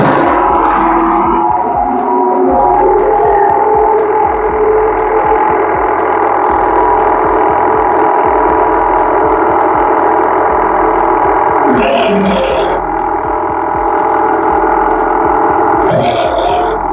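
A generator whose brush terminals are connected to the AVR runs with a loud, harsh, abnormal mechanical drone that holds steady throughout, with brief bursts of louder noise.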